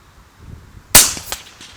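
A single FX Crown air rifle shot fired while plinking at long range on a windy day: one sharp, close crack with a brief trailing echo, set against a low rumble of wind.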